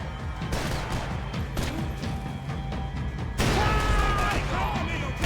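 Bursts of gunfire from the Max Payne 3 shooter game, sharp repeated shots and impacts over a continuous background of game noise, with a loud burst near the end.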